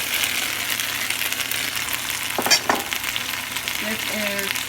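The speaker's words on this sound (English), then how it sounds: "I'm just cooking some garlic, some onions, and that green stuff is a little bit of green onions" Garlic, onions and green onions sizzle steadily in a pan, a dense continuous hiss with a brief scrape of stirring midway and faint tonal squeaks near the end.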